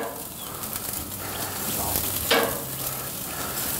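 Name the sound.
green onions sizzling on a grill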